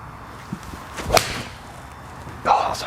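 Mizuno forged iron striking a golf ball on a practice range, a sharp crisp impact followed later by a second whooshing swing burst, moderately close with some faint background noise.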